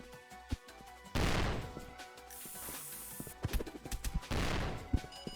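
Grenade blast in a multiplayer shooter game: a loud broadband burst of noise amid scattered gunfire cracks and clatter, with a second burst of noise later, busy and close, without talk.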